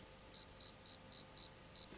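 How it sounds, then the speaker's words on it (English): A little toy cricket chirps in six or seven evenly spaced, bright short bursts, each about a tenth of a second, steady and fairly close over a quiet background. "Look, a little toy cricket. This is what was making the noise all the time."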